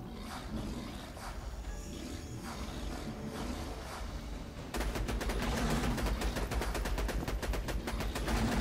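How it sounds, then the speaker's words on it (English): A low-level sniper rifle fires at dragons in a video game, with the character Zer0 at OP8 level: muffled game noise at first, then a loud, steady stream of rapid, evenly spaced shots. "I'm using a really low-level sniper just to stack critical ascension on these guys."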